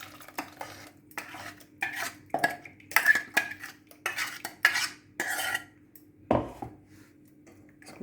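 Ground green chilli paste being strained through a sieve for chilli sauce, with a spoon scraping and tapping against the metal mesh and bowl in irregular clinks and rubs, close and moderately loud, no speech.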